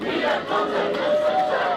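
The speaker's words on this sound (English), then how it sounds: "only about 15 people were chanting back out of a crowd of about 200 people" Protest crowd chanting a slogan at a March Against Monsanto rally, a loud, ragged mass of voices in open air, continuous and rough.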